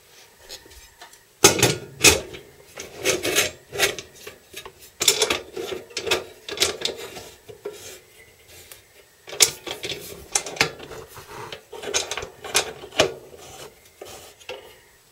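Metal clanks, scrapes and ratcheting clicks as the cover goes onto a resin-casting pressure pot, a string of irregular close handling knocks and turning latches without speech.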